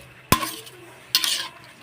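A utensil stirs shrimp in a cooking pot: two short scraping, clattering strokes about a second apart, fairly close, with quiet sizzle between them and no talking.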